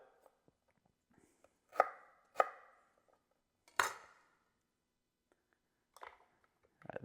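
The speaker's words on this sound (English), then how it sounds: "rough chop it." Knife rough-chopping vegetables on a cutting board, a few loud separate chops near 2 s and 4 s with scattered lighter taps, close and dry against near-silence.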